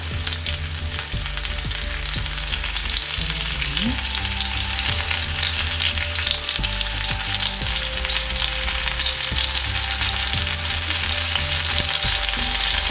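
Paneer tikka pieces shallow fry in oil in a pan, giving a loud, continuous, close-up sizzle with crackling and occasional stirring sounds throughout.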